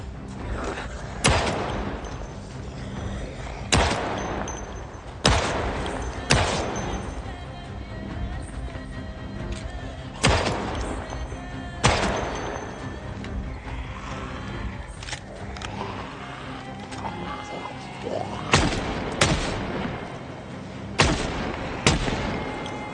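Firearm shots ring out in the Project Zomboid video game, single sharp reports spaced a few seconds apart, some paired closely, over a low background bed.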